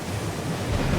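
Ocean waves and wind roar in a steady, close, continuous wash, as heard from the deck of a warship at sea with torpedo boats cutting through the water; no voices.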